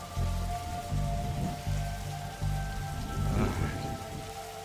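Steady rain patters and hisses over a low, pulsing rumble in The Darkside Detective, a point-and-click detective game, with thin sustained tones running through the downpour and no voices.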